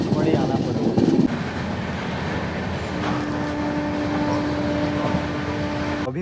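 A train rumbles and clatters at Pipariya railway station, a steady loud rolling noise with a brief louder burst near the start and a sustained tonal hum later, with people audible in the background.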